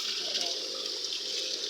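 Water gushes hard from a shower, a steady, dense hiss that runs without a break, close and fairly loud.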